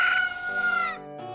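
Cuckoos, the chickens of Majora's Mask, crow in a loud, bright cock-a-doodle-doo lasting about a second, followed by a shorter, lower crowing note close up with no talk.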